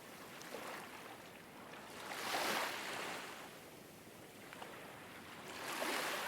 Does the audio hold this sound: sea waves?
yes